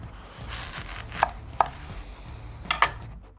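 A knife slicing down through a red onion on a cutting board, producing several crisp, close chopping knocks spaced irregularly over a low background hum.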